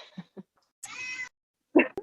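In a kitchen where dough is being kneaded, a cat gives a couple of short chirps, then a longer loud meow, followed by a sharp final cry with a click, all nearby.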